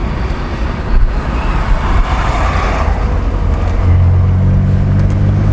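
A Hyundai Santro car cruising on a smooth, well paved road, heard from inside as a steady engine hum and tyre rumble with a low drone rising near the end, no talk.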